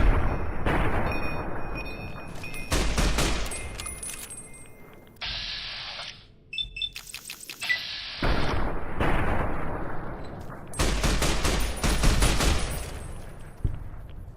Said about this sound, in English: Sniper rifle.